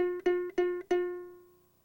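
A single ukulele note on the second string, first fret, plucked three times in quick succession, then left to ring out and fade, clean and close with nothing else present.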